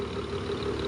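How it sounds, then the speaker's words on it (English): A 2020 Dodge Challenger with an aftermarket exhaust system idles in a steady, low, rumbling drone, with no talk over it. "Which pretty much my last Challenger had the exhaust system in it, but it wasn't as loud as this one."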